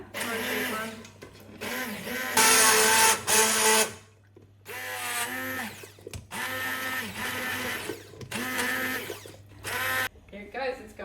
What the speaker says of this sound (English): I've gone through a few stick blenders